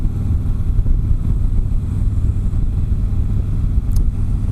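A 2017 Harley-Davidson Street Glide Special on the road, with a steady low engine rumble mixed with heavy wind buffeting across the microphone, constant and loud throughout with no talk.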